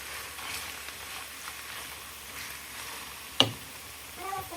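Meat and carrots for a funchoza salad frying in a pan, a steady close sizzle with a sharp utensil clink as the mix is stirred, no talking.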